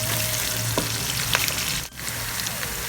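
Spices including nutmeg fry together in a pan for a minced-meat and split black lentil dish, keeping up a loud, dense, continuous sizzle with a brief dip partway through and a few stirring clicks, no voices.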